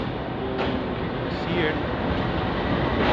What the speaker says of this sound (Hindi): और ये हमारी ट्रेन है जो कि हम कराची के लिए इसमें रवाना होंगे